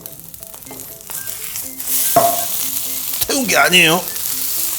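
Kkakdugi fried rice sizzles and crackles loudly on a hot griddle, a dense continuous frying hiss as it is stirred, while a person speaks briefly over it.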